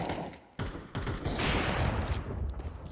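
Gunfire in a Counter-Strike competitive match: several loud close shots and bursts in quick succession with a sharp sudden onset, steady sustained background clatter, no voices.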